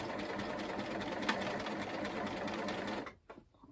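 A sewing machine running steadily, stitching slowly over doubled, joined elastic on a maxi skirt, a continuous close whirring hum that stops abruptly near the end, followed by a few faint handling clicks.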